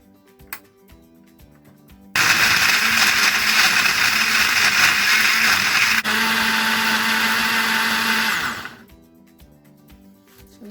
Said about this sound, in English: Now we're going to blend it.